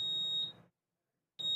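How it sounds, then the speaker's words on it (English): Door alarm sounding a steady high-pitched electronic beep, a long tone that cuts off into silence and then starts again, loud and close. "that's just the door alarm"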